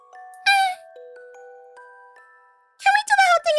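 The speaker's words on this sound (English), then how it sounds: "starting from when you ring the doorbell" A doorbell gives a soft electronic chime with sustained tones and a few lingering notes, followed by high, excited voices speaking.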